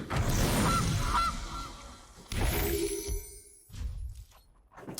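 Cartoonish goose honking from the Gilded Goose card in the MTG Arena digital card game, a couple of loud nasal honks followed by whooshing and shattering game effects.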